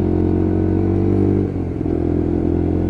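A Lexmoto LXR 125cc Euro 5 motorcycle being ridden, engine droning steadily up close with a brief throttle dip and recovery midway.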